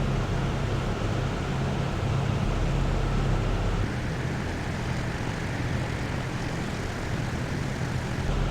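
Twin WWII P-38J engines drone steadily in flight in the Prepar3D simulator, a dense, unbroken roar with a low, throbbing hum underneath that holds constant throughout, with no talking.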